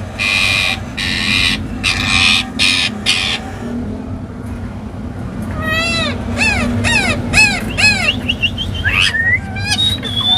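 A female bird in an aviary gives a run of loud, repeated harsh calls, each note rising and falling, close by over steady background noise, with no one talking.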